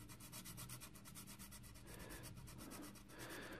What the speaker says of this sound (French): puisque c'est que du ponçage